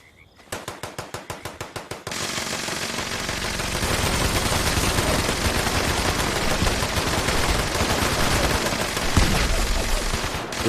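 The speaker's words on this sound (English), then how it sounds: "they're shooting off in that corner, I take it" Gunfire in the Fallout 76 video game, starting with a rapid series of about nine evenly spaced shots. These give way to a dense, continuous roar of overlapping automatic fire that holds loud for the rest of the clip.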